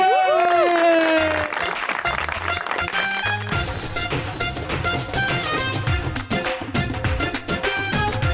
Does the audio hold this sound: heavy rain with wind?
no